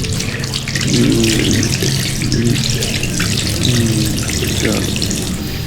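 A tap runs loud and close in a steady splashing stream as hands are washed beneath it, with a brief spoken word over the rushing water.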